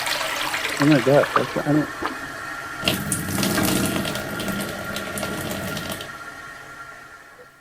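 An old pull-chain toilet flushes and overflows, heard over a phone line: a surge of rushing water that keeps running for a few seconds after a brief startled voice.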